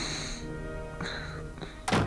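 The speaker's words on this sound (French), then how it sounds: "J'espère que le valet de pied ne s'est pas fait trop mal en tombant dans cette trappe à nigo." A footman drops through a trapdoor in the PC adventure game ToonStruck, heard as a sharp thunk and thud near the end, following game music and a couple of softer cartoon effects.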